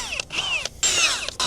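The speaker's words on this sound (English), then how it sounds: "I'm just going to pre-drill through the composite boards" A power drill pre-drills through composite deck boards, its whining motor rising and falling in pitch over three close, loud bursts with short pauses between.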